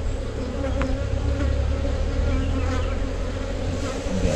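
Honeybees at an opened hive frame, stirred up and agitated, making a loud, dense, continuous buzzing swarm drone close by with no pauses and no voices.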